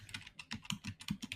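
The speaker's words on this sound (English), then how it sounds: "you typing aggressively now?" Fast, forceful typing on a computer keyboard, a dense run of hard keystrokes arriving in uneven bursts close up, with no voices.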